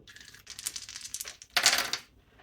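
A roaming shield token from the Divine Wrath board game flipped over on a tabletop: a brief papery rustle and clatter, then a sharper, brighter scrape-and-tap before it settles.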